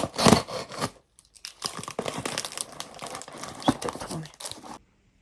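A parcel from éditions Hurlevent being opened by hand, close up: repeated crinkly crumpling and tearing of packaging in short bursts with brief pauses, ending abruptly.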